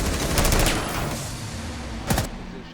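Rapid, loud bursts of gunfire from a secondary weapon in the game Rainbow Six Siege, one sustained volley followed by a shorter burst over constant game ambience.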